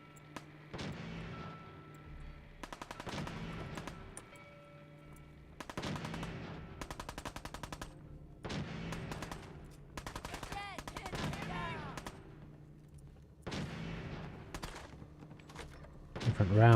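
Rapid bursts of automatic gunfire from the video game Fallout 4 repeat in several volleys separated by short pauses, loud and close, with clanking game effects mixed in.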